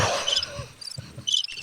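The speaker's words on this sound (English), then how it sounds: "maybe that's all you hear at Fort Knox is crickets" Cricket chirping sound effect played on a podcast, a few short, bright chirp bursts at moderate loudness over faint room noise.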